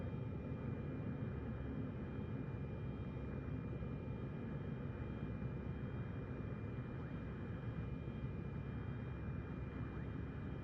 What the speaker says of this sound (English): Well, the reverse thrust works.